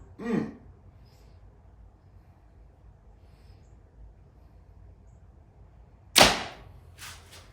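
An arrow loosed from a bow with a Prime Inline 5 build gives a sharp, loud release snap followed by a quick second impact, with a soft breathy noise at the start and quiet gaps between.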